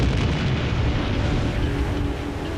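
Roaring, sustained rumble of an explosion throwing up a wave in water, loud and dense, slowly easing off over a couple of seconds, with no voices.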